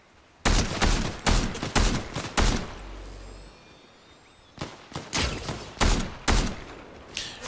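Loud bursts of video game gunfire in Fortnite, rapid clusters of sharp shots in two volleys separated by a brief lull with a low rumble and faint whistling.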